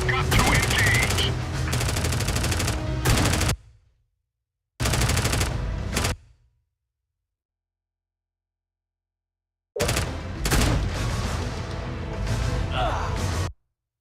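A suppressive fire gun in a video game blazes in long rapid bursts, three loud stretches of sustained automatic fire separated by abrupt silences.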